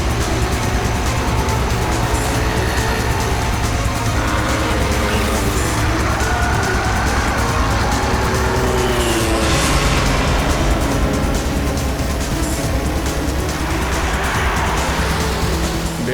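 A car driven fast in a chase: constant loud engine and road roar with tyre noise throughout, and excited voices shouting over the top.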